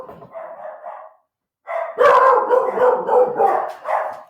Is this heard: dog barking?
yes